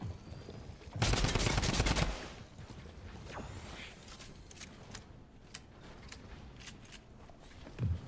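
A drum gun in a competitive video game fires a rapid, loud burst for about a second, followed by scattered, fainter shots and small mechanical clicks with no talking.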